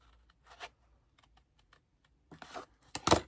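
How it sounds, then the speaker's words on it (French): Paper being cut along a fold with scissors for a scrapbooking advent calendar, heard as scattered faint snips early on and then several louder, closer crisp cuts near the end, with no talk. "Je vais venir découper le long du pli jusqu'au demi-rond."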